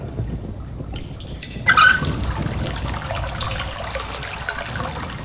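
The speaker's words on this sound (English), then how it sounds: "now that we've drained all the water out of it" Water drains out of a chest in realMyst, a short splashing gush that rises briefly and then settles into a steady trickle and gurgle.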